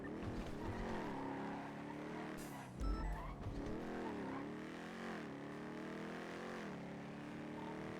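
Car engine in a NoPixel roleplay game pulling up, a continuous loud motor whine rising and falling with gear changes and revs, a brief thump and short electronic blips partway through.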